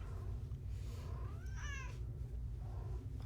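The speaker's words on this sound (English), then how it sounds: "Co-commentary from Sunny the Cat." Sunny the cat gives a single clear, rising meow, close to the microphone, over a constant low background drone.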